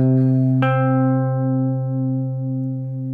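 A guitar sounds the note C in an octave shape, eighth fret on the E string: a single clean plucked attack rings and sustains steadily for several seconds, close and alone with gentle pulsing as it decays.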